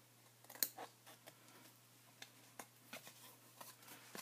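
Scissors snip through a small cardboard box to form an exploding photo box. There is a sharp close cut near the start, then scattered quieter snips and paper handling over a low steady hum.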